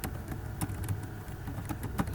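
A few quiet keystrokes on a computer keyboard, entering a Ctrl X shortcut in a terminal, soft clicks scattered over a low background hum.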